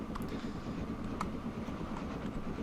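Train running in the rail video game Transport Fever 2, a steady low rumble of rolling wagons with faint clicks of wheels on track, continuous and fairly quiet with no talk.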